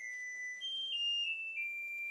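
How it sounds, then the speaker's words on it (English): A kitchen timer alarm going off while hot dogs fry, a continuous high electronic beeping tone that shifts pitch a few times, fairly faint and alone. "Okay, the timer is up"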